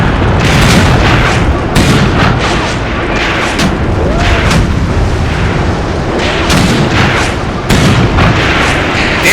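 WWII tank cannon fire and impacts in a Tunisia 1943 battle video game, loud booming blasts over a constant roar of engine and battle noise, with a few sharper hits standing out.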